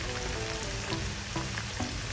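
Garlic and onion sauté in a hot pan with a steady, dense sizzle and light stirring scrapes throughout, continuous and close with no voices.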